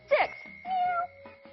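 Cartoon cats meow twice in a children's counting math game: a sharp, bright first call, then a longer drawn-out meow, both clear and close.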